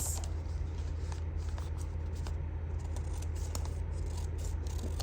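Scissors snip through paper while trimming a folded file folder into a journal cover, a few faint, quiet cuts sitting over a steady low room hum.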